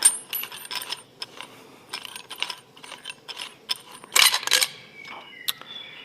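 A plumbing valve cartridge being unwound by hand and pulled free of its fitting during rough plumbing work, heard as close metallic clicks, ratcheting turns and light scraping, ending in a sharper rattle as it comes loose.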